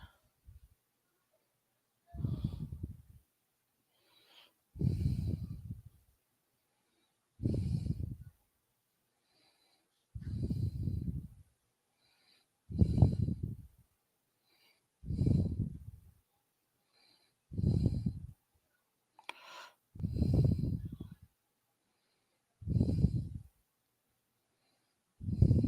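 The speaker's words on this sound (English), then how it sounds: "I just came in here and then heard you breathing" Slow, heavy human breaths, about ten deep exhalations spaced a couple of seconds apart, each a loud rushing puff with silence between, close to the listener.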